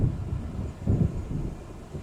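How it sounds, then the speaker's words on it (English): Distant, low rumbling thunder from an approaching storm in the video game Alan Wake Remastered, rolling in soft swells over a dull, windy background with no voices. "It seems there's a storm coming."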